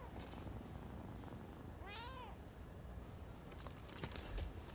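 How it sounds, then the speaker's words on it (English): A short cat meow heard in Rise of the Ronin, with a gliding harmonic contour, followed by a soft rustle, all set against a steady low background hum. "you find cats and pet them, and you find dogs and pet them"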